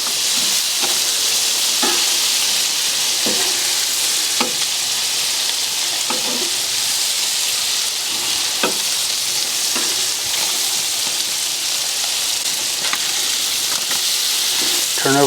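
Blackened catfish fillets and shrimp sizzle steadily in a hot pan, a loud continuous frying hiss broken by small scattered pops and scrapes as the pieces are turned, with no talking.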